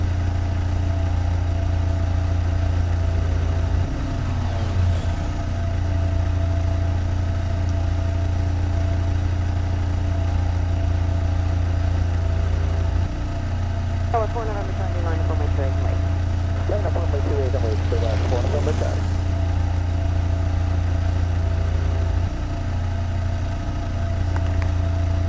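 Aircraft engines in the Eurofly flight audio game hum in a constant low steady drone, with a few brief chirping tones rising over it midway.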